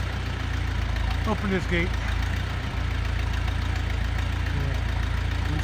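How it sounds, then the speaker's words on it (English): A tractor engine idles steadily at a barn, a low continuous rumble and knock throughout, with a person speaking briefly over it. "You must have heard my tractor."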